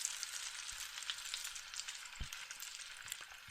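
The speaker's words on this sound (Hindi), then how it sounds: "प्याज इस तरीके से आपने काट के इसके अंदर डाल देने हैं और इनको आपने मीडियम फ्लेम पे ब्राउन होने देना है" Sliced onions fry on a medium flame in a pot for beef yakhni pulao, giving a steady close sizzle with small crackles and pops throughout, no voices.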